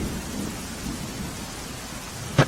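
Heavy rain pours steadily in Dahod, Gujarat, a dense hiss on surfaces with a low rumble of thunder and one brief sharp crack near the end, with no voices.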